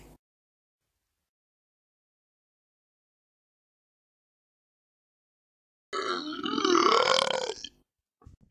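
A single long, loud burp rumbles for nearly two seconds after a stretch of silence, followed by a faint short sound at the end.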